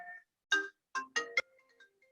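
Telephone ringing in a lecture room during a talk: a short melodic electronic ringtone of chirpy tonal bursts, fairly faint and trailing off, with no speech over it.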